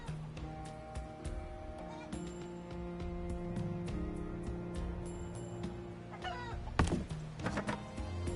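A chicken clucks within the Citadelum game, brief clucking calls set against steady game music and ambience, with a sharp thunk-like hit near the end.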